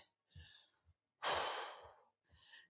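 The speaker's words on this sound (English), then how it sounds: "take some nice deep breaths" Someone breathes deeply after a cardio and core workout at home, with a few short breaths and then one long, loud exhale that trails off, close to the microphone. No one speaks.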